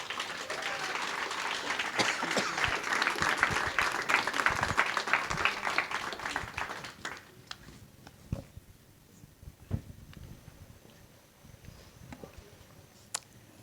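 Audience applause welcoming the MCs at a 2025 impact report event: steady, dense clapping for about seven seconds, then thinning to a few scattered, separate claps.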